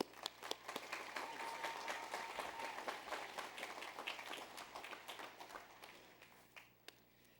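An audience at a Hamline University commencement applauds to welcome the senior speaker, a dense sustained clapping that swells and then gradually thins out toward the end.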